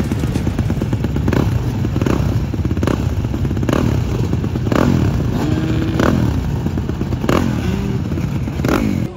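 Motocross bikes roar together at the start of an MX2 race, a dense, loud engine blare with repeated revving surges and clattering crackle running through the whole stretch.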